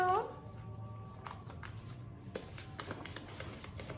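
Cards for the Cartographers board game being shuffled at close range in a soft run of riffling clicks, quiet and quick, with a voice briefly audible at the start.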